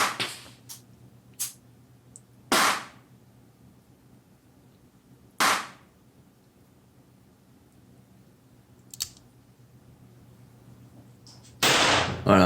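Smith & Wesson Model 10 revolver fired at 25 m on a target range: several sharp, widely spaced shots with quiet gaps between them, some nearby and loud, others fainter from neighbouring lanes.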